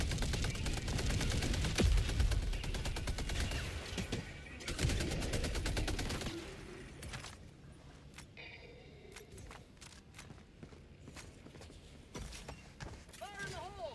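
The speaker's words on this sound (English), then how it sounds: "Calling down a sentry. We'll just set them side by side and let them do their thing" Two sentry turrets set side by side in Helldivers 2 fire loud, rapid automatic bursts for several seconds, then drop to quieter, scattered shots and clatter.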